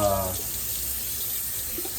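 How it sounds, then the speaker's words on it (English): Hot water runs from a kitchen tap in a steady, close hiss after a brief voice at the start. "we're gonna try running under some hot water"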